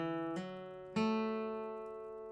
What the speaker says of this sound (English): So a hammer-on on your second fret of your D string.